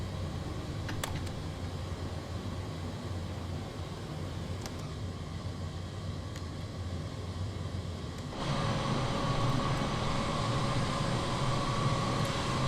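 A Boeing 787-8 airliner in Microsoft Flight Simulator 2020 gains speed, its steady engine roar humming on and then stepping up to a louder, fuller drone partway through.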